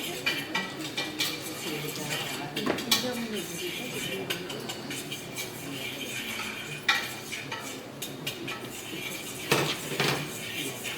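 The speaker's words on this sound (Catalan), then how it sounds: "Segueix remenant que no es cremi." A utensil scrapes and stirs prawn croquette dough in a pan on the stove, a steady soft scraping with occasional sharper clinks against the metal, while a voice talks over it.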